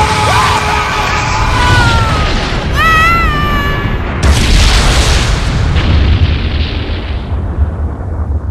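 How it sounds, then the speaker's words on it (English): The animated Big Bang Attack energy blast from Dragonball Z detonates with a loud, sustained roar; a yelling voice rises over it, then a heavy broadband boom rolls out and fades slowly. "I'm going to end this with a big bang kind of attack."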